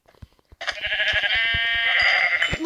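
A sheep in a video game lets out one long, loud, wavering bleat right up close, preceded by a few soft clicks and taps.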